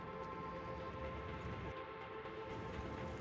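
A train in Factorio runs with a steady, continuous mechanical drone and rumble, constant in level with no pauses.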